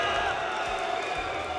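Esports arena crowd at a DreamHack Masters Counter-Strike event in Malmö, cheering for Mousesports: a dense, steady roar of many voices with whoops and claps, loud and continuous throughout.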